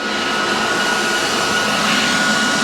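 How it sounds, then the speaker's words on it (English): Steady, loud welding hiss and buzz runs without a break on an abandoned 1955 Chevy being fixed up, close by and alone with no talk over it. "Oh, that was a nice weld."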